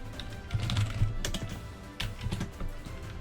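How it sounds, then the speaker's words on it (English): Rapid clicking on a computer, a busy cluster of sharp clicks and taps with a low hum underneath, close and steady with short pauses, no talk over it. "Let me click here, click here,"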